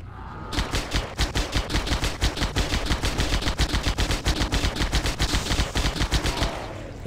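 Rapid automatic gunfire from a weapon in Halo SPV3, a steady stream of sharp shots that keeps up for several seconds, loud and close with no talking.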